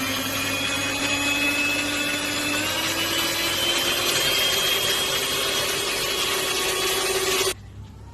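An electric mixer whips crème chantilly in a bowl, its steady high whine running loud and unbroken for about seven seconds, with the motor pitch rising slightly as the cream stiffens, then cutting off abruptly.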